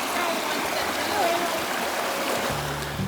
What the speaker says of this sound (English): Rushing river.